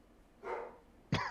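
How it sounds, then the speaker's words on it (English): A dog barks twice, a short muffled bark followed by a sharper, louder one, close by and on its own with no talk. "My dog is barking."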